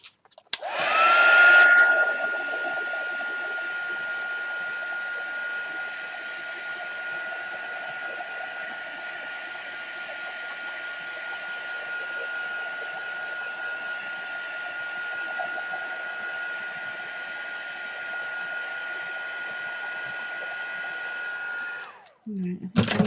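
A hair dryer blows a steady, loud whoosh with a thin whine over a painting done with masking fluid, switching on near the start and cutting off near the end, with little else heard.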